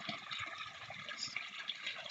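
Water churning and sloshing as someone in waders steps into a small garden pond, a continuous close splashing wash with brief louder swirls.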